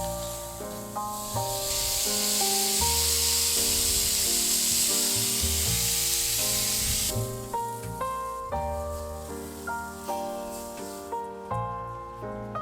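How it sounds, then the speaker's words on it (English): Brined pork chops hit a hot pan and sizzle in a loud, hissing burst for about five seconds, then fade under background music as the frying settles. "I'm going to go ahead and add a couple pork chops."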